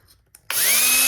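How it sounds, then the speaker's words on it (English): An electric drill fitted with a small diamond bit spins up abruptly after a moment of quiet, then runs at a steady high whine while cleaning a part of a Janome MC6600 sewing machine, loud and close. "I'm going to use my drill and a diamond bit and just clean that up"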